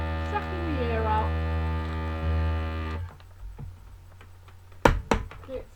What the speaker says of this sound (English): there it goes, sucking the air out